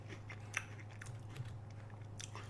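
Someone bites into golden Oreo vanilla cookies close to the mic, giving several crisp crunching bites with quieter chewing between them, all over a faint low hum.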